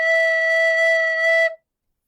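A recorder sounds a single steady note E, clear and sustained for about a second and a half, close and fairly loud, before stopping cleanly into silence.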